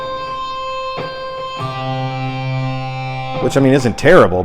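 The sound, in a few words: electric guitar notes with distortion, high E string unmuted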